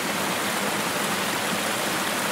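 A mountain stream in the southern Hautes-Vosges, running low in winter, gives a steady, dense broadband rush of flowing water, close and continuous with no voices.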